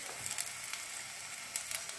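Water spinach fritters fry in hot oil over a low flame, a soft, steady sizzle with a few brief crackling spurts, faint and close with no voices.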